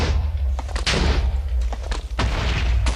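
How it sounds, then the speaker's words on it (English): Chained Minecraft TNT blocks detonate in a rapid series of heavy booms and crackling blasts, several explosions overlapping loudly in the video game. "As you can see, you can hear the TNT going off."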